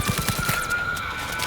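Gunfire in Cyberpunk 2077: a quick run of about five sharp shots in even rhythm, followed by a ringing tail and scattered clicks, close and loud with no talk over it.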